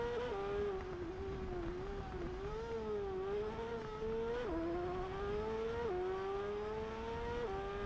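Motorbike engine racing in the TT Isle of Man 2 racing game, a loud sustained high-revving whine climbing and dropping through repeated gear shifts, steady and close with no talk.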